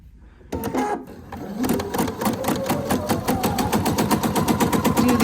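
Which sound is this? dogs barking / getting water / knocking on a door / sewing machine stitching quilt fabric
sewing machine stitching quilt fabric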